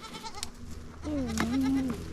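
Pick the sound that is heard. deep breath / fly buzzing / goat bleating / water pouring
goat bleating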